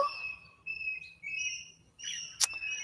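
A sweet-sounding bird calls outdoors in a garden setting, its clear, high whistled notes repeating in short phrases with brief pauses, fairly near and alone over a faint low background hum.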